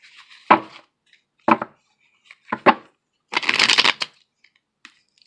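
A tarot card deck is shuffled by hand in several separate riffling bursts, the last one longer and denser, close and crisp with quiet gaps between.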